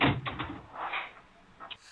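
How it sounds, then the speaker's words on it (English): A door being shut indoors in a small interview room, a soft muffled thud followed by a couple of faint clicks and light rattles, with quiet room tone afterward. "I'm gonna shut this door."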